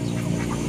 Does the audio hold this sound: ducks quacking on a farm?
yes